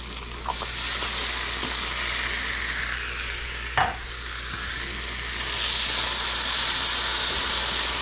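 Eggs and tomatoes sizzle and fry in a hot pan, a steady broadband hiss with a brief stir or scrape near the middle and the sizzle swelling louder toward the end.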